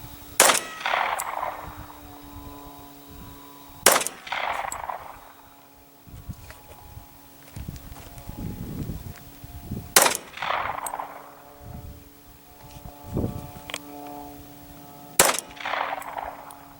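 Glock 21 Gen 4 pistol fired in a group of five sharp, loud shots at irregular intervals of several seconds, each crack followed by a short echoing ring, with low background noise between.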